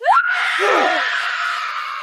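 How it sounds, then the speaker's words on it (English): A woman gives one loud, high-pitched scream that rises sharply at the start and holds for about two seconds. "Rue let out a high-pitched scream"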